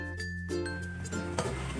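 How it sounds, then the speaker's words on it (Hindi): A metal lid goes back onto a karahi pot of mutton karahi, with a couple of clinks and a ringing metallic tone over a steady kitchen hum. "अब मैंने वापस ढक्कन लगा दिया है।"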